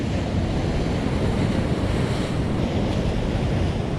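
Ocean surf rolls in as the tide comes in along a seascape shore, a steady, loud wash of breaking waves mixed with gusty wind buffeting the microphone, no voices.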